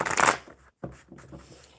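Tarot cards being shuffled by hand, a brisk riffling burst followed by a brief pause and softer, irregular shuffling and sliding of the deck, close and alone without speech.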